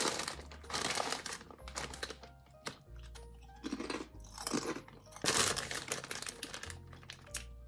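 Close, loud crunching and chewing of Sainsbury's mushroom truffle crisps in repeated bursts of bites with short pauses between them, no talking.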